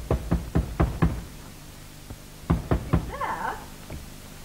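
Several sharp knocks on a front door in two bursts, first five quick raps, then a pause and three or four more, close and loud in a quiet room, with a faint voice or cat-like sound between them.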